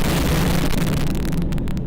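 A rocket strike explodes against a residential building in the war in Ukraine, one heavy roaring blast whose rumble rolls on and then breaks into crackling bursts as it fades.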